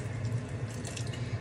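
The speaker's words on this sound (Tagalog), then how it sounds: "Lagyan ko pa ng tubig kunti mga kasimpol" A little water is poured into a pot of sautéed mung beans cooking with fish, giving a steady, close splashing trickle of running liquid, brief and continuous.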